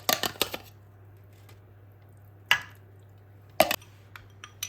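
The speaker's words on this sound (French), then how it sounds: "déposez vos ramequins chauds dans un grand plat et les remplir du mélange d'épinards" Hot ramekins are set down in a large dish and filled with a spinach mixture, giving a few sharp ceramic clinks and knocks spaced apart over a low steady hum, close and fairly clear, no voices.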